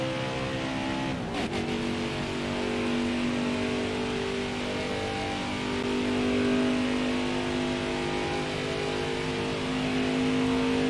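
A truck engine in NASCAR Heat 5 at Daytona holds a steady, loud, continuous drone with a sustained pitch, straining in third gear, with no talk over it.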